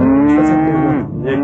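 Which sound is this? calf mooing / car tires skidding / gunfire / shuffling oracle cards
calf mooing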